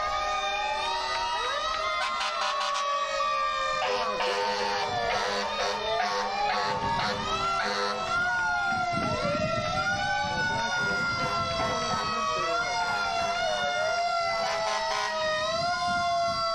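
An antique fire engine siren wails repeatedly in rising and falling sweeps during a Fourth of July parade in Wakefield, loud and close, with crowd noise and scattered voices around it.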